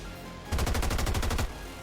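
A rapid burst of about ten gunshots from the XCOM 2 game, fired in a quick evenly spaced rhythm lasting around a second, loud and close, with quieter background before and after.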